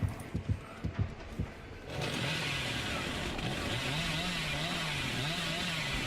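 The killer's chainsaw in Dead by Daylight revs up, a loud continuous buzzing snarl that wavers in pitch and follows several short sharp thumps.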